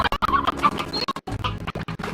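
Stony hens from the video game Slime Rancher clucking and squawking in quick, choppy bursts, close and fairly loud, with brief gaps between the calls and no talk over them.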